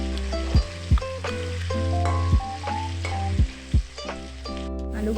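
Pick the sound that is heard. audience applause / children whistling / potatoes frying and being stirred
potatoes frying and being stirred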